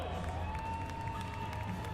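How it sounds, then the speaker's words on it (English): Crowd noise at an EnduroCross motorcycle race in Prescott Valley, Arizona: a steady wash of cheering and clapping heard from a distance, continuous throughout with no clear breaks. "you can hear the crowd. The crowd is applauding these guys."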